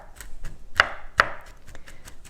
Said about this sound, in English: We've got some beautifully chopped nuts.